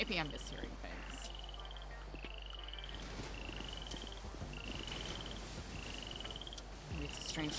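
Repeated trilling toad croaks in the video game GTA NoPixel come in a steady rhythm, about one every second, beneath people talking and low ambient hum.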